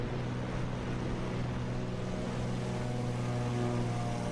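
A light plane's propeller engine drones steadily at high power during a three-point takeoff in Microsoft Flight Simulator, with a continuous loud tonal hum and no voices.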